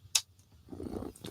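A cat purrs softly in a low, rumbling flutter after a sharp click, faint and close.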